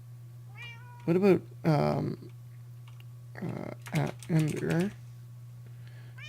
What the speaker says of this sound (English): I'm gonna have to go find that cat and get rid of it because it's annoying the hell out of me